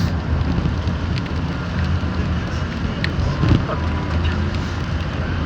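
Strong storm wind and rain lash an outdoor area near SM North in a steady, loud roar that never lets up, with faint voices mixed in.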